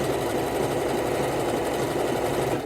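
A sewing machine stitching fold over elastic runs at a steady fast clip, its continuous mechanical whirr and rapid needle chatter filling nearly three seconds before slowing at the end.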